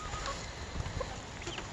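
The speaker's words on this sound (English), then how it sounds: "This chicken right here and Bruno, that hen and Bruno, they are lavender Orpingtons" A lavender Orpington hen clucks softly in a backyard coop, a few short low clucks rising over steady outdoor background noise, with no one speaking.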